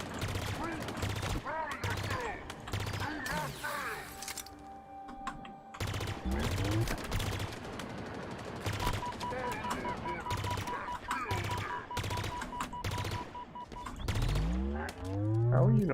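Rapid bursts of automatic gunfire from a weapon in Halo Infinite's campaign on Legendary difficulty, crackling repeatedly across the whole span alongside other battle effects, with a voice talking over parts of it.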